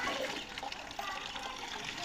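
Water from a village water tank pours and splashes steadily and loudly, a continuous rushing flow with faint voices in the background.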